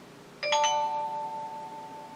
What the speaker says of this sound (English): I'll give you a call bell.